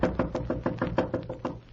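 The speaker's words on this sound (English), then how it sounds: "someone knocks at the door" Someone raps on a door, a brisk series of about nine close, evenly spaced knocks heard clearly on their own.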